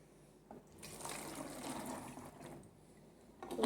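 Cold water pours steadily into a drinking glass, a broad splashing fill that swells and then eases, with a fresh burst of pouring at the very end; nobody speaks.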